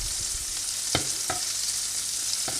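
Prawns fry in a pan with a continuous bright sizzle, broken by a few soft knocks and stirring clatters as they are turned, steady and close with no talking.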